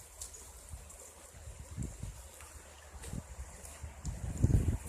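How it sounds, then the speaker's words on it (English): A small snowmelt creek in March with a little white water, a soft steady trickle and rush of flowing water outdoors, with some wind buffeting the microphone and a louder gust near the end. "A little white water down here, not much, but just a little bit."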